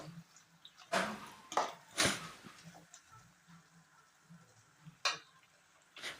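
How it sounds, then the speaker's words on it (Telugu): Mushroom masala curry stirred in a frying pan, soft scraping and squishing with a few louder knocks of the spoon against the pan, close and quiet, with a faint sizzle underneath. "ఇంకా ఫ్రై చేయాలి బాగా."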